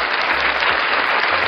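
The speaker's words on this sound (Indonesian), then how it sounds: "Clap ni tepuk tangan." Canned applause sound effect triggered from a button on a V8 USB sound card used with a BM800 condenser microphone: a brief, dense burst of crowd clapping, steady and loud throughout.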